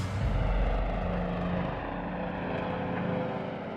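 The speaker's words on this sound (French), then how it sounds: "Le Firestorm, le plus gros bombardier d'eau de la planète, effectue un vol d'essai crucial" The Firestorm, the largest water bomber on the planet, flies on a test flight with a loud continuous roar of aircraft engines and propellers, heavy and steady throughout.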